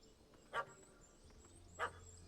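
A puppy in a video game gives two short, sharp barks about a second apart, fairly clear over a quiet hum of game ambience.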